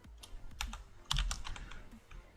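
Fingers tap a computer keyboard in quick, uneven bursts of clicks, close and fairly quiet, with no talking over them.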